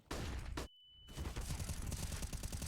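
Gunfire from the Counter-Strike map Overpass during a Natus Vincere versus Liquid professional match, with dense shots followed by a brief silent gap and then more bursts.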